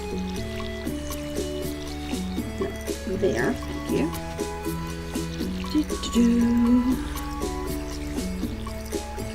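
Small trickling and splashing water from a watering can on crops in Stardew Valley, with soft game chimes and background music, while a person talks over it.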